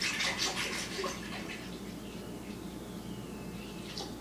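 Almond milk pours into a blender for a triple berry smoothie, a soft, steady liquid splashing that is strongest at first and then settles into a faint trickle, heard alone.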